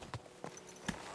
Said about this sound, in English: Get on the horse.